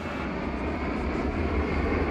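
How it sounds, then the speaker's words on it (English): Airplanes taking off at an airport make a steady, broad jet engine roar, heard from a distance as a continuous rumble with no voices. "Planes continue to take off with minimal delays"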